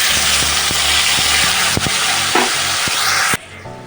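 Tomato paste hitting hot oil with nigella seeds and ginger paste, a loud, close sizzle and hiss with a few knocks of stirring, then dropping suddenly to a quieter bubbling near the end.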